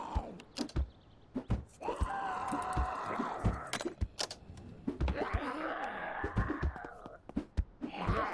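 Zombies groan and moan in the zombie survival game Vein, long drawn-out wailing tones rising and falling across the clip, close and fairly loud, with scattered thuds and clicks from the game in between.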